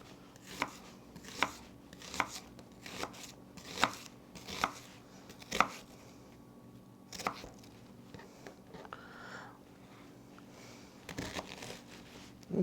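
A knife chops onion into fairly large pieces on a board, with sharp, evenly paced strikes repeating steadily and close, pausing briefly before a few final cuts.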